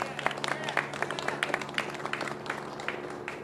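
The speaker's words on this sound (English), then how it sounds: "please, a big round of applause." Audience applause at a Los Angeles County Sheriff's press conference about the Monterey Park mass shooting suspect, steady scattered clapping from a crowd with a faint low hum underneath.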